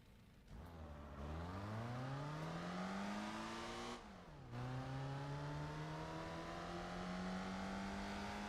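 Race car engine in Gran Turismo 4 revving hard and climbing through the gears, each pitch rising steadily before a brief drop at the shift, loud and continuous with no talking.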